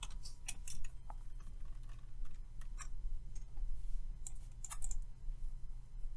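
Rapid typing on a computer keyboard during a lesson on PIC microcontrollers, with irregular bursts of light clicking keystrokes, fairly close but quiet, with no talk.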